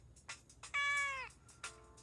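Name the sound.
cat meowing in a video game, Joker no Kuni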